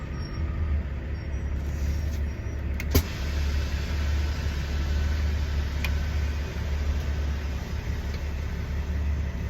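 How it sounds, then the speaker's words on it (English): Bus engine idling steadily nearby, a low continuous rumble with a couple of sharp clicks and hisses, heard alone without voices. "He turned on his bus."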